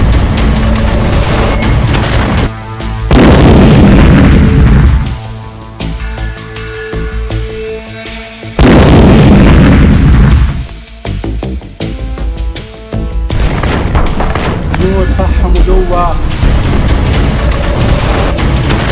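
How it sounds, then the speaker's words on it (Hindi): Bombs and artillery shells explode in Israel–Hezbollah war footage: heavy, loud booms arrive several seconds apart, each followed by rumbling decay, over a dense continuous background. "आसमान से आईडीएफ हिजबुल्लाह पर बम और गोले बरसा रही है"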